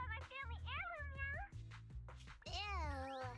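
A cat meows repeatedly in the video game Zenless Zone Zero, the mews rising and falling in clear, close, tonal cries with one short break between them, loud and steady throughout.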